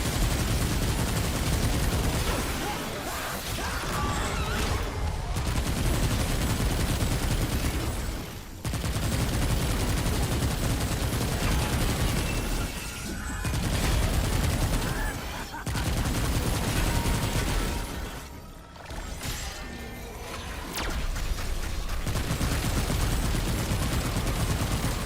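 Cube gun in Remnant 2 firing at enemies, a steady loud barrage of rapid shots with brief pauses between long sustained bursts, mixed with combat clatter.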